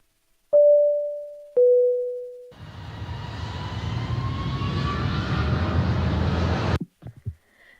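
Jet airliner taking flight, opening with two chime tones and then a rising engine roar with a whining turbine tone that builds steadily for about four seconds before cutting off abruptly.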